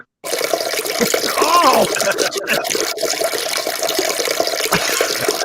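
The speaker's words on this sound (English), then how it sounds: "Don't forget the flush, Dan." A toilet flushes with a rushing, gurgling burst of water that swells then settles into a steady refill trickle, close by, with a brief exclamation from a man over it.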